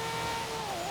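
A Nissan R33 GTR LM revs high and steadily in Forza Horizon 3, its racing engine holding a loud, sustained tone with a slight dip and rise in pitch over about a second.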